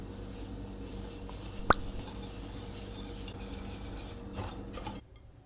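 Dry onion soup mix ingredients are stirred together in a bowl, giving a soft, steady scraping and rustling close up, with one small sharp clink partway through.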